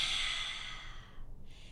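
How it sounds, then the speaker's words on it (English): A child-directed exhale in kids' holiday yoga: one long, steady breath pushed out through the mouth, close and airy, fading before a short second puff of breath at the end. "Big breath out through the mouth."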